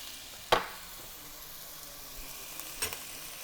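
Scallops fry in butter in a pan with a soft, steady sizzle, punctuated by a sharp nearby clack and a later softer knock of utensils against the pan.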